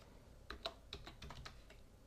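Quiet keystrokes on a computer keyboard, around a dozen close, light clicks in a quick, uneven run with no talking.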